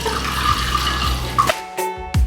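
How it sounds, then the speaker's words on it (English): Tap water runs steadily into a sink while hands are washed, a close, continuous splashing hiss that ends with a couple of sharp knocks as the faucet is shut off. "Washing my hands."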